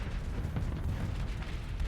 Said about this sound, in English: Vulcan cannon.